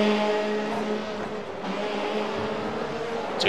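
VW Beetle and Ford Fiesta race cars in a BSR winter series race, engines droning steadily side by side through a chicane, fairly close and loud, with no talking.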